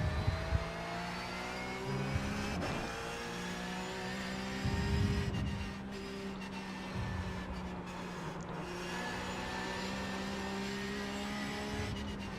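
Porsche 911 GT3 engine in iRacing at Watkins Glen, a close, loud howl that climbs in pitch as the car accelerates, with a brief lift and bursts of revving, no talk over it.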